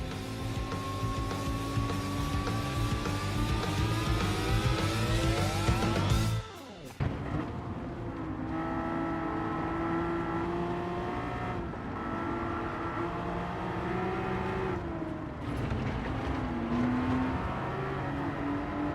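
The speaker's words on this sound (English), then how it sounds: "Look at this, a full grid of cars at Trial Mountain." A full grid of race cars speeds around Trial Mountain in Gran Turismo 7, with loud layered engine whines rising and shifting gears, a brief dip partway through, then a steady roar of many cars and no talk.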